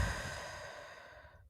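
A single deep breath let out slowly during a guided breathing exercise, a soft airy exhale that fades over about a second and a half before falling silent.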